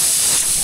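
Steam hisses steadily from a pot of boiling bulalo beef soup, a close, loud, unbroken airy rush that lasts the whole brief moment.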